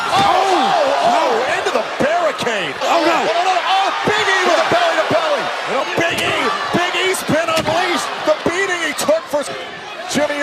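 A wrestler crashes into the ringside barricade at a WWE SmackDown event, heavy slams and thuds landing amid a roaring arena crowd, with excited commentary and shouting throughout.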